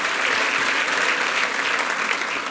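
A church congregation applauds in a steady, dense wash of clapping with light cheering mixed in, sustained evenly at close range.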